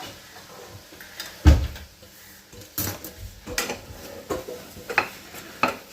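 Boiled channa chaat with potatoes is mixed with tamarind chutney in a bowl, giving scattered clinks and scrapes of a utensil against the dish plus a few louder knocks, all close by.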